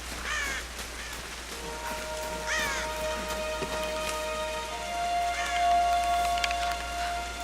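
Crow-like caws repeat from a bird in the Tomb Raider video game over a steady rain-like ambience, with sustained musical tones in the background; no one speaks.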